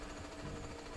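A drill lurker enemy in the Jak and Daxter video game drills steadily, a dense, continuous grinding buzz with a constant mechanical chatter and no pauses, fairly loud and alone.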